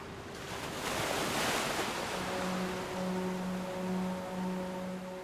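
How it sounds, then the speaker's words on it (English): A strong southwesterly wind and surf at a beach, a loud steady wash of wind and breaking waves with a low gust swell early on, joined later by faint hums that pulse on and off in the background. "A strong southwesterly wind has cleared the usually packed beaches."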